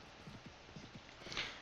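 Horses' hooves clip-clop in Mount & Blade: Warband's A Clash of Kings mod as a mounted party moves, a steady series of soft, close hoofbeats in an even walking rhythm over a faint background hiss.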